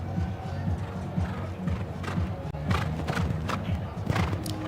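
The horse Donatello galloping round a show jumping course, hooves thudding in a quick, steady rhythm on the arena surface, with crowd and commentary noise mixed underneath.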